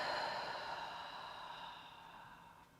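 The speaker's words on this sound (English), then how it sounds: "take a deep breath out" A slow, deep breath out during yoga relaxation, a soft airy exhale that starts fairly close and fades gradually over nearly three seconds, heard on its own without talking.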